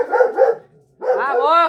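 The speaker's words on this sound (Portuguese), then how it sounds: "É o Dog, mano. O Dog é meu cachorro." A pet dog named Dog gives a couple of short, loud barks up close, followed by a drawn-out whining, yelping vocalization, with a person talking.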